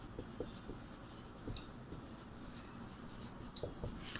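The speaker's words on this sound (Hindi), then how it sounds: "यहाँ पे हम लोग लिखेंगे घ में" Pen scratching steadily across paper or a board in a Sanskrit class, close and quiet, with light rubbing strokes and small taps, no talking over it.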